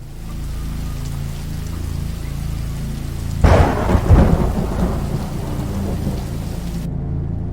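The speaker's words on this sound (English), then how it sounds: "Wow, stormy out tonight." Steady rain pours throughout a nighttime thunderstorm, and a loud, close crack of thunder breaks in halfway through, rolling into a rumbling tail that slowly fades back into the rain.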